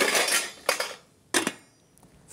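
A metal lid set onto a cooking pan in a kitchen, two sharp clinks of metal on metal after some rustling, each ringing briefly before fading.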